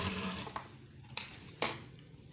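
Sewing machine stitching seams on police uniform trousers, heard as a short run of mechanical whirring with a few sharp clicks and thumps, fairly close and without talk.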